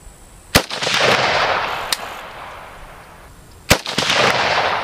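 Two sharp, loud rifle shots from a Romanian RH-10 AK fired outdoors at a range, each a hard crack followed by a long rolling echo, with a fainter knock between them.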